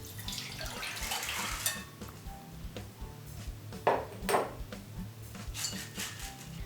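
Soaked tiger nuts are tipped into a strainer and their soaking water drained off, with clattering metal and pot knocks, brief pings and splashing water in irregular bursts, close by and with no talk.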